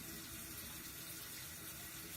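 Shower water running steadily in a bathroom, a dense, continuous hiss of spray that stays even and close throughout with no voices.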